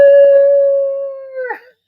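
A dog lets out one long, loud howl held steady and close, starting with a few short yips and ending in a wavering drop.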